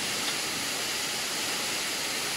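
Waterfall at Kolakham carrying a heavy flow of water, a steady, dense broadband roar heard from above with no break or change in level.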